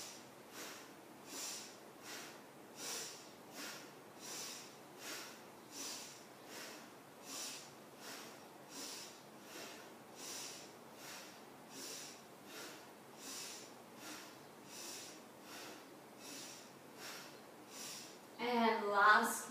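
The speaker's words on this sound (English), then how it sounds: "Change your breath. Inhale left, exhale right." Alternate nostril breathing in an energizing yoga practice: a steady series of about twenty close, soft nasal breaths, each a breathy rush through one nostril, evenly paced. A louder, rougher breath comes at the very end.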